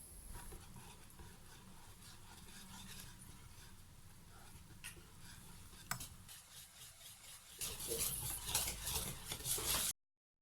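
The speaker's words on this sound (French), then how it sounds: "On verse le restant dans notre récipient, on y ajoute la farine et la levure chimique, puis on remue." Flour and baking powder being stirred into chocolate cake batter in a bowl, a soft continuous scraping and swishing that grows louder and busier toward the end, with no talking.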